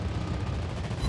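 Battleship main gun salvo in World of Warships Blitz from a tier 8 premium battleship Odin, a heavy booming roar that fills the whole short moment, loud and rumbling, with no voices.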